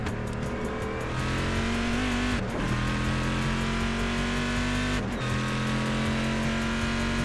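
An onboard race car in a GT racing video game at Imola screams through its gears, the loud engine note climbing steadily and dropping sharply at two upshifts, with no voices.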